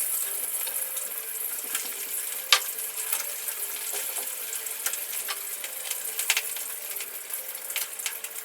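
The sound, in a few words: frying chicken (pritong manok) in a pan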